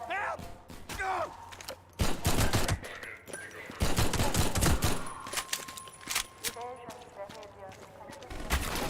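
Half-Life 2 gunfire: rapid bursts and single shots rattle among clanks and game noise, with shouting voices and chatter over much of the scene.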